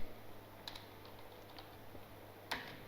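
Soft, sparse keystrokes on a computer keyboard while a program is typed, faint taps spaced irregularly with one slightly sharper click near the end, over a steady low hum.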